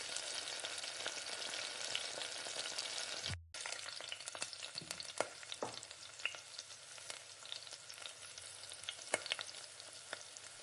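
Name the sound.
chopped onion frying in oil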